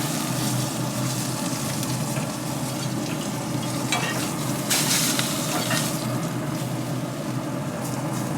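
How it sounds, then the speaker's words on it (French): Duck breasts sear skin side down in a cast iron pan heated to maximum on a Louisiana Grills barbecue searing plate, giving a steady, loud, crackling sizzle throughout with no talk. "Je cuis les magrets côté peau."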